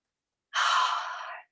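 A single long, soft breath exhales during a guided love meditation, close and airy, rising quickly and fading gently over about a second, alone in silence.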